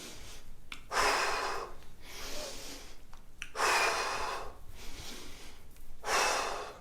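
Four long, deep breaths, each a loud airy rush separated by short pauses, during a standing arm- and shoulder-shaking dance exercise; no talking over them.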